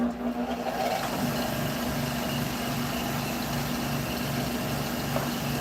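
A wood lathe turns a cherry bowl at 1400 RPM with a steady, close mechanical hum and drone that holds an even, unbroken level throughout, with no talk.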